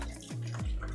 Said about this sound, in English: I'm gonna just rinse.